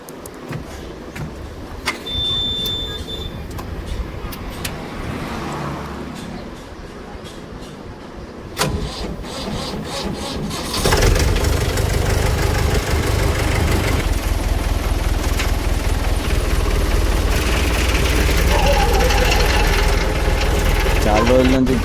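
A Mahindra 595 Turbo tractor engine runs steadily and loudly after four months sitting idle, a continuous mid-pitched drone that grows heavier and louder partway through, with voices talking over it.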